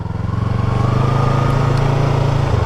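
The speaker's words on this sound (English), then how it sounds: "I'm going to give it a little bit of throttle" Motorcycle engine under a little throttle as the rider eases out in the friction zone, a close, loud, pulsing throb that quickens slightly and then holds steady, no voices.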